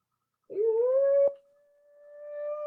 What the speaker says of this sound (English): Sounds like wolves to me.